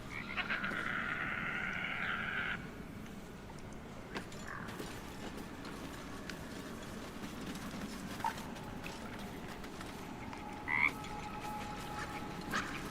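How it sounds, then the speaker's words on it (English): A frog in Baldur's Gate 3 croaks in an erratic, pained-sounding burst near the start, followed by scattered fainter croaks and clicks over a steady low ambient bed, with no talking. "The frog's entire body shakes. It ribbits erratically as if in pain."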